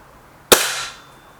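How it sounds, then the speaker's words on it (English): A single sharp crack from an air rifle firing a Norma pellet, close and loud, with a short decaying tail and a quiet background. "that's the 5 shots there with the Normas"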